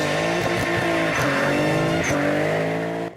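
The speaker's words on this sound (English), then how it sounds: "this is the car the eggheads will be burning out. A Nissan 300ZX with 480 brake horsepower" A Nissan 300ZX with 480 brake horsepower revs hard in a burnout, its loud sustained engine drone wavering in pitch over tire roar, close and continuous before cutting off abruptly.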